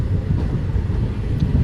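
The 11274 Vindhyachal Express passenger train rolls to a stop at a station with a steady low rumble and a faint squeal near the end, close by and alone.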